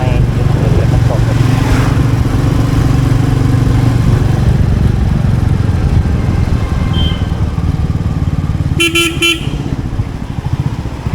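A Royal Enfield Meteor motorcycle engine running steadily while riding through Bangalore traffic, a loud continuous low drone with wind noise, a brief horn toot from traffic near the end, and a rider talking over it.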